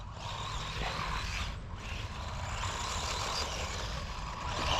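A cheap WLtoys $100 RC car drives through grass with a continuous buzzing motor whine and a rough, rustling scrape of grass against the small wheels, steady and fairly loud with brief dips.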